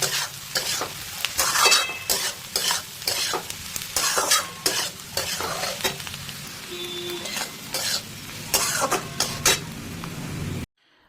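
Onion frying with salt and turmeric is stirred in a pan for shrimp curry, with repeated rhythmic scraping strokes over a continuous close sizzle, ending abruptly, no voices.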